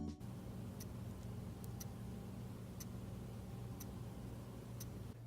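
A cheap wristwatch movement ticks loudly and evenly, sharp close clicks spaced about a second apart over a low steady hum, with no voices.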